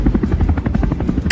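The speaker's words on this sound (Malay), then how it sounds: "formasi mega sebentar tadi terdiri daripada 20 buah pesawat helikopter" A mass formation of twenty police and fire service helicopters, including A109 and Mi-17 types, flies over a Malaysian National Day parade, producing a loud, close, throbbing rotor chop that beats steadily throughout.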